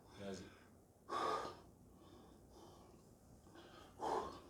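Heavy breathing from someone recovering during a short rest between sets of push-ups, with a few loud, spaced gasping breaths close to the microphone amid quiet pauses.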